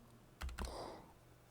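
Two quick close clicks of the X key on a computer keyboard, very faint and alone in a quiet room.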